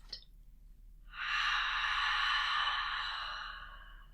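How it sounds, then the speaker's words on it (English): A slow, deep breath drawn in and let out fully during a calm seated chair yoga session, a soft airy whoosh rising after a brief pause and then fading gently as the exhale trails off, heard alone and close. "Take a deep breath in and a full breath out"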